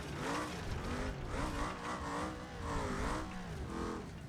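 An off-road vehicle in BeamNG.drive, the Roamer, is driven over rough terrain with big square-edged bumps, its engine droning and surging in pitch while it rumbles continuously over the ground.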